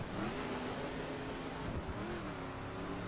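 A retro car engine revs in the racing game Dirt 5, a continuous buzzing drone with harmonics climbing and dropping through gear changes, heard alone without talk.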